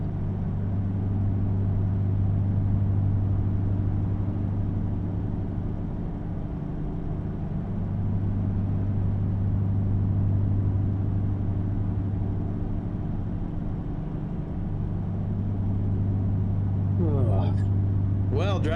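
A truck cruising down a freeway in American Truck Simulator, with a steady low engine drone and road rumble throughout and a voice talking over it near the end.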